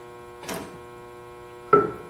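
A Juki LG 158 long-arm walking-foot industrial sewing machine turned by its hand wheel gives two distinct mechanical clunks, the second sharper and louder, over a steady motor hum.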